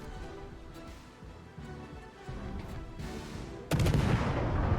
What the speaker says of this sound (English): a bunch of ricochets there